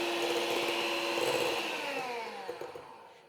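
An electric mixer beating cream with gelatin and powdered sugar, a steady close whirring hum that gradually shifts in pitch and fades slightly toward the end, with a few light clicks near the finish.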